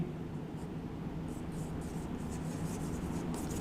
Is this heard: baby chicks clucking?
no